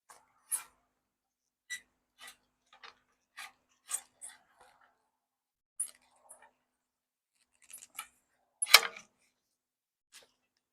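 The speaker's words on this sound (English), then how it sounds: "These buttons click into there, holding the pole in place." Plastic buttons on a dunk tank pole snapping into place during setup, a scattered series of short, sharp clicks and taps at close range, with pauses between them and one louder cluster near the end.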